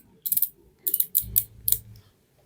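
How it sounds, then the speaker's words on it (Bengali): A dial lace knob on a Redtape sneaker turned clockwise gives several short bursts of crisp ratcheting clicks, separated by brief pauses, close up and with no talk over them. "জাস্ট প্রেস করবো এরকম, এই যে ক্লকওয়াইজ ঘুরাবো"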